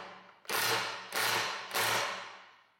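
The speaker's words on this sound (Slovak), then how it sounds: "Silu môžeš znásobiť opakovaným stlačením, razový uťahovák sa znova automaticky vypne" Milwaukee M12 12V cordless impact wrench (FCIWF12G3) tightening a fastener: three close, loud bursts of rapid mechanical hammering, each cutting off abruptly as the tool automatically stops, with short pauses between.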